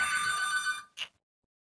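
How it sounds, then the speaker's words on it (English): A telephone rings at home during houseplant care, a loud electronic trill that stops abruptly, followed by one brief final chirp and then silence. "Phone was ringing."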